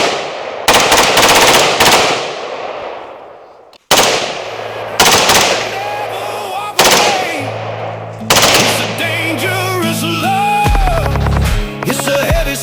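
Gunfire cracks loudly at an outdoor shooting range, a few single shots ringing out and then rapid strings of shots with echoing tails, while music plays underneath.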